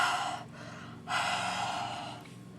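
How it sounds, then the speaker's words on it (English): Two long open-mouthed huffs of breath onto a rubber stamp to re-wet the ink for card making, close and breathy, the second starting after a short pause and fading slowly. "do what they call huffing, or actually just breathe with your open mouth on it to kind of re-wet the ink"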